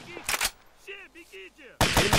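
Bursts of gunfire from enemies in a cooperative military video game sound in two loud clusters, one brief near the start and a heavier one at the end. A voice talks briefly between the bursts.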